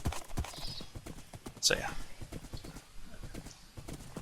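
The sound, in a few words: horse galloping along a road, from a video game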